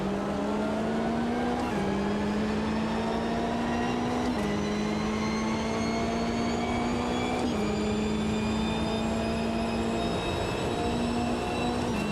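Race car engine in the Automobilista 2 racing simulator held in second gear, a steady droning whine rising slowly in pitch with brief dips at each gear or throttle change, loud and alone.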